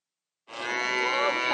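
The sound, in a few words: calves and farm animals at a market petting farm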